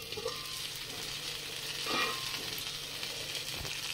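Potato, eggplant and chickpea curry sizzles and fries in an iron kadhai, with a steady crackling hiss and brief stirring scrapes of a utensil, close and with no one talking.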